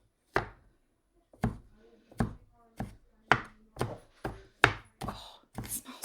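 A kitchen knife mincing a garlic clove on a cutting board, about a dozen sharp, close chops in an uneven rhythm that quickens toward the end, with no talk.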